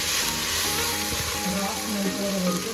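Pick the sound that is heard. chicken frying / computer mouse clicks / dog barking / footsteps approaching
chicken frying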